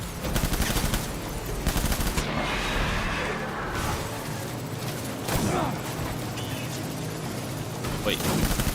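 Rapid, continuous gunfire in the video game Death Stranding, dense bursts and blasts filling the whole stretch with a few whooshes.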